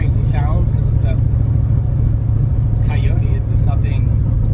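Steady low engine drone and road rumble from a Ford Mustang GT500 with a swapped Coyote V8 cruising calmly at an even pace, with no revving, heard from inside the car beneath someone talking.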